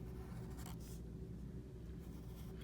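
Black marker drawing on paper, a steady quiet scratchy rubbing that runs continuously over a low background hum, with no talk.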